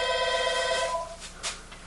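A telephone rings with an incoming call, a bright trilling electronic bell heard nearby for under a second before cutting off, followed by faint room noise.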